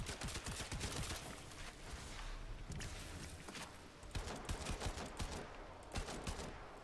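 Rapid bursts of video game gunfire crackle in dense, sustained volleys, loud and close, with brief lulls between strings of shots and no voice over them.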